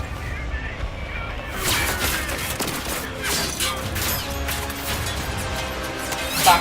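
Gunfire from an orc in a Warhammer 40,000 Kill Team cinematic, with loud crashing, smashing impacts over a dense battle soundtrack, bursts coming continuously for several seconds alongside other action noise.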